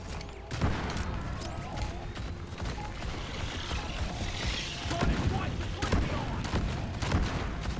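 An automated sentry gun in a video game keeps firing in rapid bursts amid dense game noise, sustained and busy throughout, with a person talking over it.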